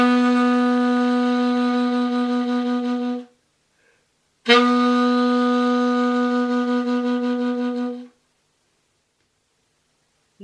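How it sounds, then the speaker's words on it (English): Two long held C sharp notes on a tenor saxophone, each lasting over three seconds with a gap between, solo and close-miked, with a warm, deep reedy tone. "And on a tenor it sounds like this."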